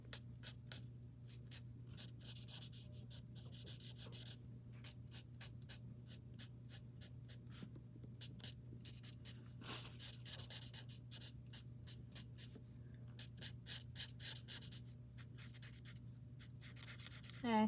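Coloring stripes in a sketchbook, with rapid, rhythmic scratchy strokes of a coloring tool on paper in bursts over a low steady hum, close and continuous.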